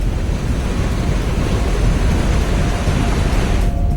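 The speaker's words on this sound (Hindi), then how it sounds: "देखिए सड़क पर बाढ़ के पानी में ऐसे लहरें उठ रही हैं जैसे समंदर में उठती हैं।" Floodwater about four feet deep surges in waves along a Chennai street, giving a continuous loud, rushing roar with no pauses and no voices.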